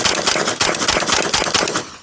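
An AK pistol fed from a Glock magazine fires a rapid string of shots, loud, sharp and close, each report quickly following the last.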